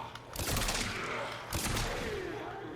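Ivara's exalted bow in the video game Warframe fired rapidly several times, giving sharp whooshing releases with thumping impacts, two heavier bursts standing out among quicker shots, moderately loud with no speech.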